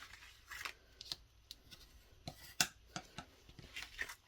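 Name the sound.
cutting card paper for a pop-up box card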